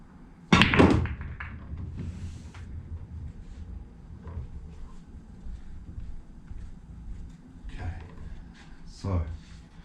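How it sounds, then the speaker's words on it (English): Straight pool break shot: a sharp cue strike and burst of clacking balls near the start, followed by scattered lighter knocks as balls roll and collide on the table, with a person speaking over parts of it. "I'll just play this break shot first"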